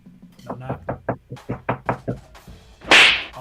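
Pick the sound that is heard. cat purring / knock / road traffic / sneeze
knock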